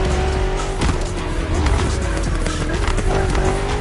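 Three BMW M CS cars driven in The Crew Motorfest, a steady loud engine drone with tyre noise, close and continuous with no pauses.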